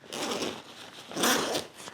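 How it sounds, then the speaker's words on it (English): A U-shaped zipper on a backpack's main compartment is pulled open in two close, raspy sweeps, the second louder and longer than the first. "it has this U-shaped zipper"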